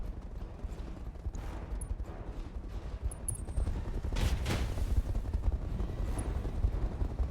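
Mech weapons fire in the RogueTech video game, a continuous barrage of rumbling shots and explosions with rapid bursts layered over a dense, loud battle din.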